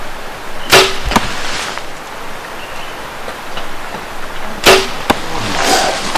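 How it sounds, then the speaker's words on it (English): A hunter's bow shoots arrows outdoors in Colorado, two sharp snapping releases several seconds apart, each followed by a quick whoosh and thud, over a steady windy outdoor hiss. "So I'm going to shoot a couple of arrows here and make sure my bow is still shooting good"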